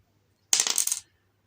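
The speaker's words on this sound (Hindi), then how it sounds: "तो इस सिक्के को अगर मैं उछालूं तो देखिए" A metal coin tossed and landing in a Hindi probability lesson, one brief burst of bright, jingling metallic clinks lasting about half a second, alone in quiet.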